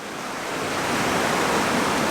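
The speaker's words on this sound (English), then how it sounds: "the waves are crashing over these rocks in the foreground" Waves crash over rocks on the Cornish coast at sunset, a broad steady roar of surf building slightly in loudness with no other sounds.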